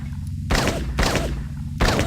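Three heavy gunshots from a pistol with unlimited ammo in the video game Blade Runner, each a loud booming crack followed by a rumbling decay, spaced roughly evenly apart with no talk.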